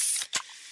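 A can of Pepsi cracked open up close, a sharp hiss of escaping fizz followed by a quick snap of the tab and a fading carbonated sizzle.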